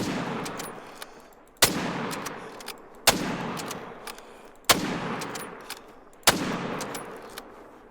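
Rifle shots in the Call of the Wild hunting game, comparing an M1 Iwaniec and a .30-06: five sharp, loud reports at a steady interval of roughly one and a half seconds, each trailing into a long decaying echo, with faint mechanical clicks between shots.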